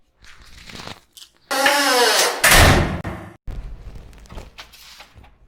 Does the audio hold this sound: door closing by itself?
yes